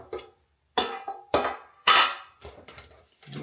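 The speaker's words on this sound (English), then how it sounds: "next we're going to pop the top on the bacon grease can" A bacon grease can being opened, its lid pried and popped off with several sharp metallic clanks and scrapes in separate bursts, close and fairly loud, with brief quiet gaps between them.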